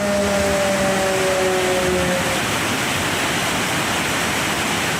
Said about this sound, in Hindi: हरिपुर तरबेला डैम में पानी की सतह में मुसलसल इजाफा, स्पिलवेज खोल दिए गए